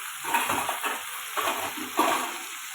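Drumsticks cook in oil in a pan with a soft, steady sizzle and a few gentle stirring scrapes over a constant hiss, without talking.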